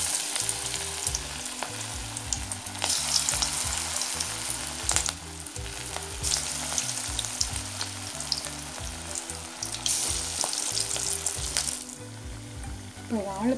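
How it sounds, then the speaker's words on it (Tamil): Banana flower vada fritters sizzle and crackle steadily in hot oil, a continuous close frying hiss with occasional sharper pops and spatters, no talking over it. "ஸோ இப்போ நான் ஒன்று ஒன்றா எண்ணெயில் போடுறேன்."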